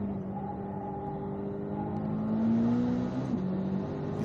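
A Corvette on a race track, its engine revving in a loud, sustained drone that swells in pitch and intensity partway through, heard up close without talk.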